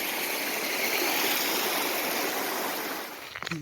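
Alpine Brook, a mountain stream crossed on the Keyhole route up Long's Peak, rushes steadily in a loud, close, broadband wash that lasts throughout, with a brief knock or footstep near the end.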